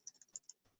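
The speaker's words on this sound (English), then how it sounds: "Maybe do some fancy typing" Quick, light keyboard typing on a computer during a WordPress editing session, a short burst of close clicking keystrokes.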